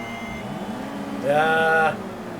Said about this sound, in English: It does do the shifting for me because I was revving her up and it started to go.